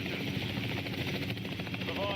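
A plane flying in Battlefield 6, a constant loud rotor-like droning engine roar, steady throughout, with a voice talking over it.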